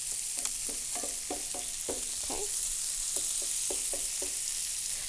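Spiralized sweet potatoes sizzle steadily in hot oil and fat, a constant bright frying hiss broken by a series of short clinks and scrapes from stirring, with no voices.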